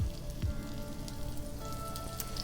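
Slivered shallots sizzle in olive oil in a hot pan, a steady, soft crackle with faint pops, close and continuous with no talk.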